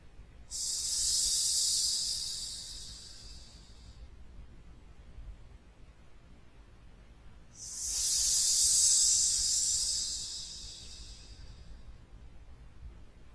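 Two long hissing exhales, imitating a snake during outdoor desert qigong, each lasting about three to four seconds and separated by a quiet pause, close and fairly loud, with no talking.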